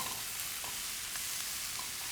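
Stir fry of seafood and vegetables being mixed in a hot pan, a soft, even sizzle running continuously with a few faint stirring scrapes, fairly quiet and close.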